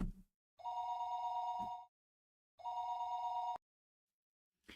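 In the Higurashi video game, a telephone bell rings twice in clean electronic bursts of about a second each, separated by a short silence, sounding clear and close with nothing else around it.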